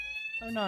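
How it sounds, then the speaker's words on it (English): A fire alarm sounds during a livestream as a steady high electronic tone running through the whole moment, and a person speaks briefly over it near the end. "That's the fire alarm."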